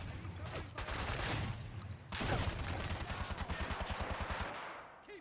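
Gunfire in the 007 Bloodstone shooter game: loud bursts and heavy shots, then a sustained rapid machine-gun rattle that fades toward the end.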